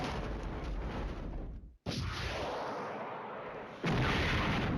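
Guns firing at long range in Flashpoint Campaigns, heavy booming shots that blend into a continuous loud roar of gunfire, with a sudden brief cutout and a louder burst near the end.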